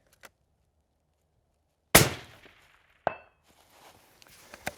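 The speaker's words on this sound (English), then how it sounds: "we'll go live now and send a couple of rounds down range and see if we're actually on target" A long-range rifle fired from a tripod at a shooting range: one sharp, loud report with a ringing echo tail, then a second fainter crack about a second later, with small clicks and handling noises around them.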